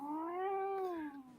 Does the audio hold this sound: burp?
no